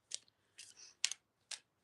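Tarot cards being shuffled and riffled, four short separate bursts of crisp papery flicking close up with pauses between, no talk.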